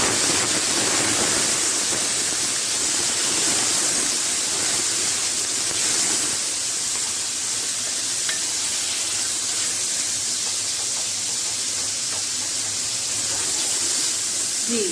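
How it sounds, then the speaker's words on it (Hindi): Chicken pieces added to fried onions in a pot set off a loud, steady hiss and sizzle, a broad spray of noise that holds throughout and eases only slightly toward the end. "जी, चिकन ऐड कर दिया है हमने।"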